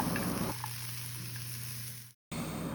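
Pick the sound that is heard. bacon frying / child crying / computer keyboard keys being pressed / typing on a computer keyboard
bacon frying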